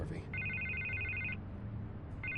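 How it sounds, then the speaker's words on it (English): A telephone bell rings in repeated electronic bursts, with one long ring followed by the start of another, under a low background rumble and faint talk. "I can't get the phone to stop ringing."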